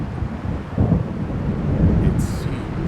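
Low, rumbling thunder of an approaching storm in the video game Alan Wake Remastered, a continuous dull roll with a swell near the start, mixed with faint wind and rain-like noise.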